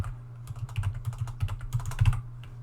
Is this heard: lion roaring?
no